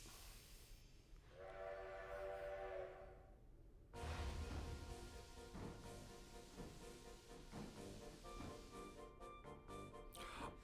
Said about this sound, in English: this is the music they use when you use the train in Dragon Quest Treasures